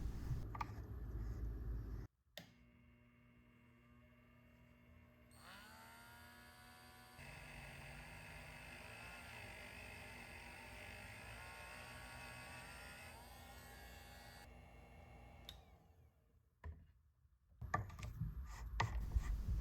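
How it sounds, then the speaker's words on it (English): Dremel rotary tool with a small wire wheel working a watch stem mounted in a lathe: a steady high-pitched whir starts up, holds for about ten seconds, then winds down, with quiet handling noise before and after. "I'm going to try removing it with a small wire wheel in the Dremel"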